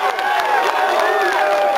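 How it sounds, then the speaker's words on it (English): Polish spectators at a 2007 World's Strongest Man strongman event, reacting loudly and disapprovingly in a dense, continuous roar of voices with scattered shouts and whistles. "And the Polish crowd aren't happy either."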